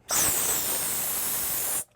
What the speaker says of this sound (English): I'll start by blowing up all the balloons.